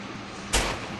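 A single loud revolver gunshot in a video game cracks out as a sharp, booming blast that fades quickly over a constant background hiss.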